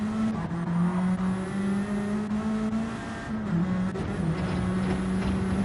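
Race cars lapping a track in a sim racing video game, a continuous loud engine drone holding near-steady pitch with small dips and rises as the cars shift and hold throttle.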